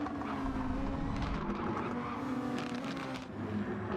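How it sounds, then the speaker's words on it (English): Race cars in a racing video game roaring together in a pack, with sustained engine drone and tire skidding as they make heavy contact, loud and continuous throughout. "Ooh, heavy contact between them all."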